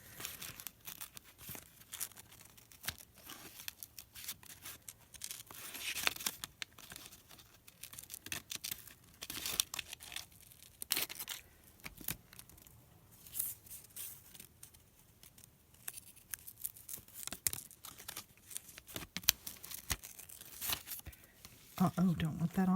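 Paper is cut apart to free a flower picture, with irregular close snips, rips and crinkles coming in bursts between quiet gaps.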